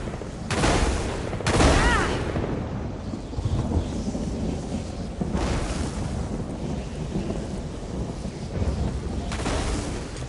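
A lightning and thunder spell in The Elder Scrolls Online cracks and rumbles in several broad, noisy bursts over a steady roaring wash, loud and close throughout.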